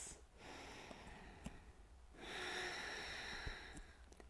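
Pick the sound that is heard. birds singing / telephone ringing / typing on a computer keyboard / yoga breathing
yoga breathing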